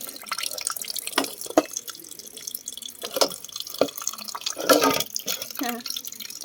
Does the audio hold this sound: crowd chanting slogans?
no